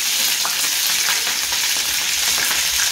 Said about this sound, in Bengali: ফুলকপি দিলে না বড্ড ফাটে